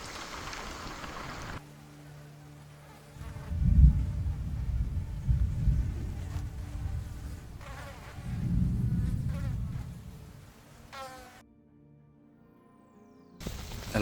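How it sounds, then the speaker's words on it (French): Mosquitoes whine and buzz close by in a rainy Lapland cabin, a thin persistent drone swelling in two louder passes with soft low rumbles, cutting out briefly near the end before returning. "j'en ai marre de ces moustiques"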